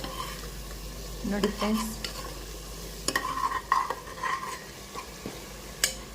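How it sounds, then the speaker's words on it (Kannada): Pulao masala frying in oil as it is stirred, a continuous sizzle broken by repeated scraping and clinking of a spoon against the pan, with a person talking briefly. "ಎಣ್ಣೆ ಬಿಟ್ಕೊಂಡವರೆಗೂ ಇದನ್ನು ಸ್ವಲ್ಪ ಕೈ ಆಡಿಸಿ."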